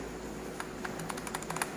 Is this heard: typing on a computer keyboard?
yes